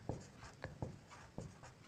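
Pen or marker strokes on a board during a maths lesson, several short scratchy taps and strokes spaced irregularly, fairly faint and close, no talking over them.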